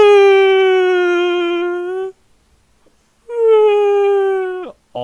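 A voice mimics a woman crying like a whale, drawing out a long, loud, tonal wail that sags slowly in pitch, breaking off into silence before a second mournful moan that slides downward and ends in a short yelp.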